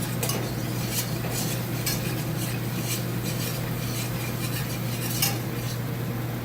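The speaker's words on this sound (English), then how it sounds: "Let's stir that around a little bit until smooth." A spoon stirs Thai chicken curry in a pan, scraping and rubbing steadily against the metal with a faint sizzle and a low hum behind it, close and continuous.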